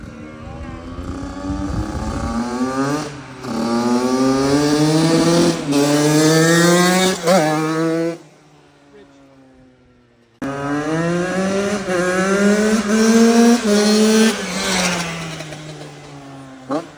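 Several used dirt bikes of different brands rev one after another, roughness in their running noted, loud, close engine tones climbing and falling through repeated throttle blips, a brief drop to near idle, then more revving.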